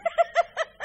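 A voice imitates a chicken clucking, five quick rhythmic bawk-like clucks in under a second, close and clear with no other sounds.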